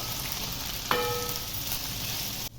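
Okra fries in a shallow layer of oil with a steady, close crackling sizzle, broken by one light clink from stirring, then the sizzle cuts off abruptly near the end.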